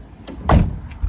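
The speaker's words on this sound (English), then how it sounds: "Habitation door opens up on a gas strut up there, so you can see there it opens itself up" Lunar H592 motorhome habitation door swinging open on a gas strut: a quick latch click, then a close, firm thud as the door lifts itself open, all within a second, with no voices.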